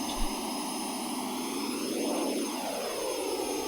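A plane's engine in the flight game SimplePlanes 2 drones steadily and loudly throughout, with a smooth whine that rises and sweeps back down midway. No one speaks over it.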